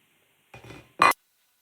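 Egg whites set onto a plate after the yolks are tipped out: a soft scrape followed by a sharp close clink of ceramic, brief and isolated in silence.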